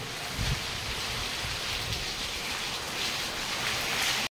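Steady rain falls close by in a broad, even hiss with soft drops pattering on a surface and a low rumble underneath, unbroken for a few seconds before cutting off abruptly at the end.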